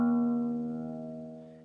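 A guitar's low E string, the thickest one, is plucked open for tuning and rings as a steady, full, sustained tone that fades slowly, heard alone.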